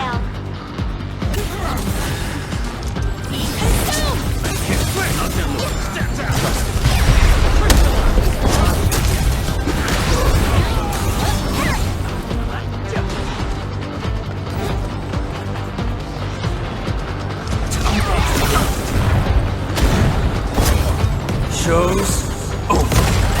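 Mini bombtail explosions in the video game Arknights Endfield produce a dense barrage of booms, crashes and thuds. The blasts rumble on continuously at a loud, steady level, with a character voice speaking over the din at times.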